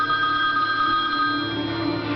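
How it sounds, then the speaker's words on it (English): A telephone rings loudly and without a break, a steady electronic trill that stays close and alone for a couple of seconds. "Tony received a number of sinister phone calls"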